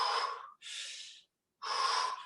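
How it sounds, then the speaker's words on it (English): Three heavy, close breaths during a no-equipment bodyweight workout: a sharp exhale, a drawn-in inhale, then another forceful exhale after a short pause, loud against otherwise silent surroundings. "Breathing in on the way down, breathing out on the way up"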